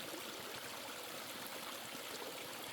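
A small stream flows near a camp in the wilderness of Kemihaara, Finnish Lapland, giving a continuous close babble and trickle of water with no voices.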